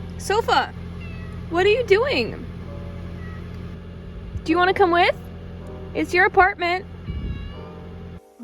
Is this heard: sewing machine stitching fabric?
no